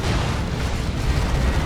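A plasma cannon shot bursts in a Dawn of War 2 3v3 match, a loud, continuous roaring blast of explosive noise filling the whole moment with no clear pauses.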